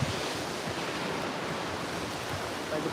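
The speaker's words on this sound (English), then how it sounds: "by the beautiful ocean" Ocean surf at a California beach: a steady, loud wash of breaking waves with some wind rumble, continuous and close, with no voices over it.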